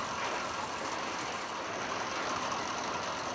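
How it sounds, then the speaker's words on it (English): A 1920s diesel engine drives mate processing machinery with a steady, loud, continuous drone and mechanical clatter, running alone without talk. "The diesel engine from the 1920s still drives all the machines needed to process the"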